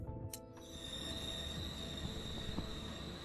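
A train rolls along in the Lovecraftian horror game RailGods of Hysterra, a steady rumbling ride with a sustained high whine and occasional metallic clanks and squeals, close and continuous, with no voices.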